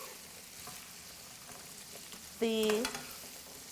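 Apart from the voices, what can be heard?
asparagus, garlic and oil sauteing in a pan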